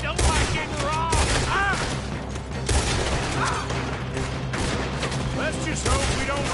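Repeated gunfire in a PS4 shootout game, sharp shots scattered in clusters across the whole stretch over a busy background, with voices in between.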